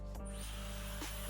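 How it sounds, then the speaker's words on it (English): Hair blow dryer running steadily while a round brush styles medium-length hair, a continuous airy whir with a steady motor hum, interrupted by a couple of brief bumps and shifts in the airflow. "And then you're gonna bring the blow dryer up"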